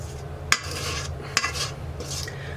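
A spatula scraping pecan pie filling and nuts out of a bowl, soft repeated scrapes with two sharp clinks against the bowl, close and alone without talk.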